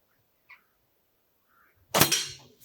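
A .22 calibre air rifle pellet shot fired at a 20-yard target: one sharp, loud crack with a short ringing tail, preceded by a faint tick and near silence.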